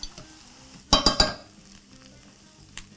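Onions fry in a pan, a low steady sizzle broken by a quick burst of three sharp clatters from stirring or a utensil striking the pan, then one faint click near the end.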